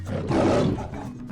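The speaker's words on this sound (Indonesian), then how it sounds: "ketika mendengar auman sang raja hutan" A lion roars, a loud, close, rough bellow swelling to a peak and then fading over a little more than a second, with no voices.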